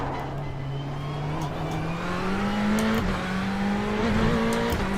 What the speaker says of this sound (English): Porsche 911, I believe.